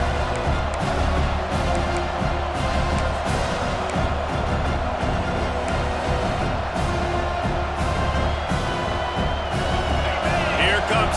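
A stadium crowd in EA Sports College Football 26 roars steadily with cheering and whoops, a dense continuous wall of noise with a commentator talking over it.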